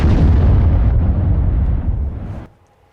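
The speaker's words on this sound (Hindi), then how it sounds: "सीसीटीवी में तस्वीर कैद हुई, देखिए ये धमाका जैसे ही होता है।" A loud, heavy blast from an attack on a house in Beersheba, picked up by a CCTV camera, roars for over two seconds and then cuts off abruptly into near silence.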